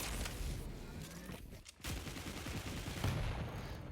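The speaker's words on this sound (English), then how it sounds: "the machine gun will fend him off" Rapid machine gun fire rattles in a Quake Pro League match, dense bursts of gunshots with a brief pause in the middle, loud and close amid other game noise.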